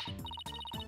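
A phone ringtone in a Phoenix Wright: Ace Attorney game, a quick electronic pattern of bright repeated beeps in two short bursts, loud and alone.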